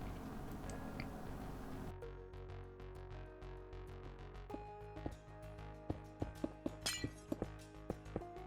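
Glass blocks are placed one after another in Minecraft, building out a stone modern house, making a quick series of crisp clicking taps with a brief glassy shatter midway, over a quiet background.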